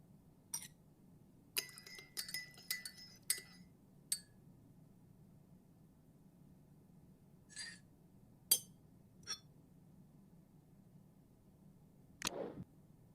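Spoon stirring tea with a single sugar in a cup, in the video game Murder By Choice: scattered light clinks of metal on china in irregular bursts, then a final sharper clink, over a quiet background.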